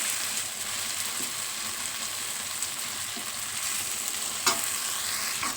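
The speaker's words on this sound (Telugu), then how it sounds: "మష్రూమ్స్ వేసాక కొంచెం ఫ్రై చేస్తున్నానండి" Mushrooms fry in a pan over cooked-down tomato for a mushroom gravy curry, giving a steady close sizzle and hiss with a faint clink of a utensil near the end.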